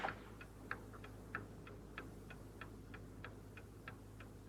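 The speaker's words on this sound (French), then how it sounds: "il me semble entendre quelque chose, un tic-tac" A clock ticks steadily and quietly, with evenly spaced sharp clicks about three times a second over a low constant hum in an otherwise quiet room.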